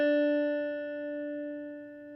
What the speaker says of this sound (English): place it on the 3rd fret of the second string, B. It should sound like this.